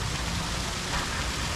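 Mountain water pours freely from a pipe near a hotel on the Kailash Mansarovar route, giving a steady, dense, close rushing hiss with no break.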